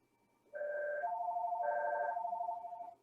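A telephone rings indoors with a clean electronic tone that alternates between two pitches and lasts about two and a half seconds, fairly close and heard alone.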